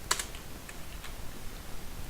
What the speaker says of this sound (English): I type push airlock because the button is marked airlock